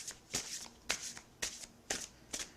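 Spirit Animal Oracle cards being shuffled by hand, with five crisp riffling bursts at an even, unhurried rhythm, close and fairly quiet, with no voice.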